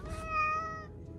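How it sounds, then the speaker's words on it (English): A feral domestic cat named Blueberry gives a single close, clear meow with a rising then falling tone, heard alone. "He is just attacking me. He's just a feral cat."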